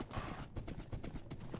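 Horse hooves clip-clop steadily in Minecraft, a quick even run of close, clear hoofbeats with a low rumble underneath and no talking.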